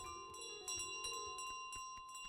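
The bell carried by the goose in Untitled Goose Game jingles in repeated light metallic strikes, an irregular series of soft chimes with sustained ringing tones between them.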